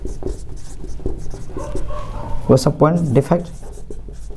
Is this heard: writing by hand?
yes